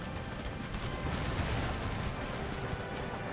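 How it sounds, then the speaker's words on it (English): Artillery and howitzer fire in the Empire: Total War strategy game, a dense continuous rumble of distant booms and crackling shots that rolls on steadily without pause. "There's a few shots coming in."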